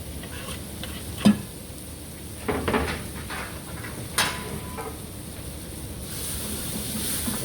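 Garlic tipped into a pan of softening onions and shallots gives a few stirring scrapes and soft knocks over a low, steady sizzle, with no talk.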